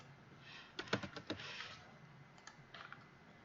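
A short, quiet run of computer keyboard typing comes first as a cluster of crisp key clicks, then a few scattered taps after a pause.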